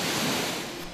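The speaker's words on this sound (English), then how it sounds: "There is a tremendous amount of power in an ocean wave" Ocean waves rolling in off the British Columbia coastline, a steady broad wash of surf noise that stays loud and close throughout, with no voices.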